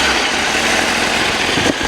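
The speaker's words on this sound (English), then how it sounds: "from here, you can start the bike. And it is very quiet." A 2025 Honda CBR 1000RR-R Fireblade motorcycle idles close by, its engine giving a loud, steady, even drone with no change in revs.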